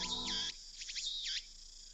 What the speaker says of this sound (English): where the cries of cicadas resound